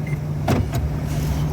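Inside a car, the gear lever is shifted into park while the brake is held, giving a couple of short, close clicks and a soft mechanical clunk over a steady engine hum.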